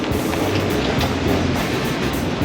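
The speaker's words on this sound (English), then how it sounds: "Cadence of the waves in the Mediterranean is a little different than the cadence of the waves on the Atlantic." Mediterranean Sea waves pounding against a sailboat under way, a continuous loud rushing wash with churning low rumble and no voices.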